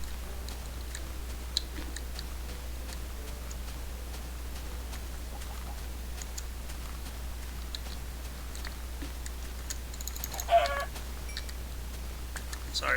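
A single brief, faint squawk from a chicken being hunted in Minecraft, rising near the end over a steady low hum and soft background noise, with no talking.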